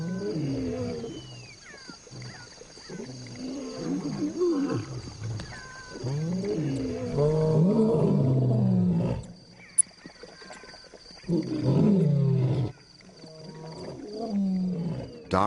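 At night near a waterhole, a male lion lets out deep, rumbling roars and growls in repeated bursts with brief pauses, loud and close, over a low ambient background.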